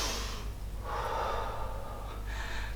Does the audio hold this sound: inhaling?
yes